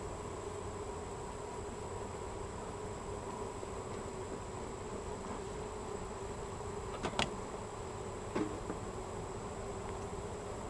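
Honeybees buzzing in an open hive during a late-August beekeeping inspection, a steady droning hum throughout with a couple of brief sharp knocks near the end, no talk.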